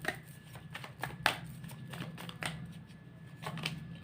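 Tarot cards are shuffled close by, giving a run of soft riffling flicks and taps in an uneven rhythm that sound crisp and quiet.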